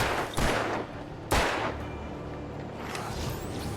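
Two sharp gunshots from a firearm in the remastered Alan Wake video game, cracking out about a second apart over a steady, dense game backdrop.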